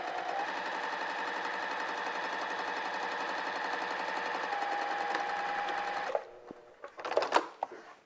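Sewing machine stitching quilt blocks together for an orange peel quilt top, running without bobbin thread: a steady, close, continuous mechanical whir for about six seconds, then it stops and gives way to a few scattered handling clatters.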